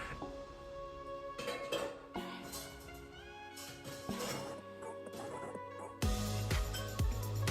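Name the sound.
washing dishes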